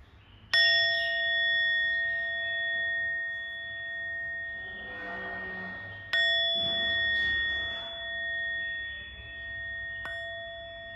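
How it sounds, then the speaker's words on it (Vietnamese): A 9 cm Japanese bronze meditation bell is struck twice, each strike a clear ringing ding with a sustained metallic tone that slowly fades. A faint third tap comes near the end, with no talking. "Em cũng sẽ đánh chuông số 6 cho cả nhà."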